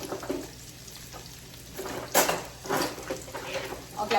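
Capers fry in a pan for crab cakes, giving a soft steady sizzle with brief louder bursts of hiss and faint stirring or utensil clatter.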